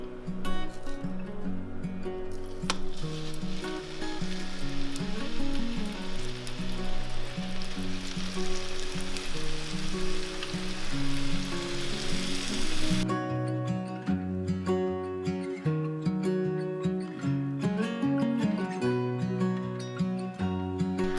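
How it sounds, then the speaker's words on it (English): Food sizzles steadily in canola oil in a pan, a dense crackling hiss throughout, with background music playing over it and no talking. "I'm gonna put these in and let them cook for about 5 minutes on each side"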